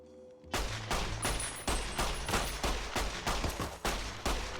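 Rapid gunfire from a weapon in the video game Fallout, a dense string of loud, evenly spaced shots after a brief quiet start, close and continuous with no talk over it.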